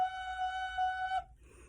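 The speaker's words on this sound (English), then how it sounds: "F sharp sounds like this." A recorder sounds a sustained F sharp for a little over a second, a steady pure tone with faint overtones that cuts off cleanly, followed by a brief quiet murmur.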